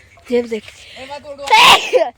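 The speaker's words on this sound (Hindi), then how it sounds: "भाई पता नहीं के छींक पे छींक आया मुझे।" One sharp, loud sneeze from a man standing in a sugarcane field, coming just after a few words of Hindi speech.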